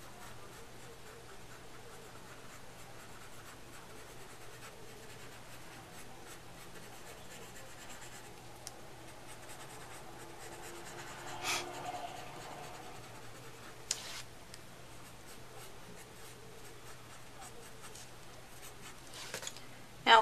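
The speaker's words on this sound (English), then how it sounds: "So for the hairline, you're going to draw soft strokes." A pencil sketches soft strokes for the hairline on a drawing of hair, a faint, close, steady scratching and rubbing that runs almost unbroken, with a few light taps.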